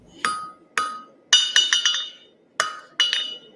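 A blacksmith's hammer striking metal, sharp ringing clanks in groups, single blows and then quick runs of lighter taps, loud and close, each ring fading quickly.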